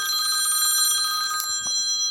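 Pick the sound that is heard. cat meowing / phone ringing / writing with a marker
phone ringing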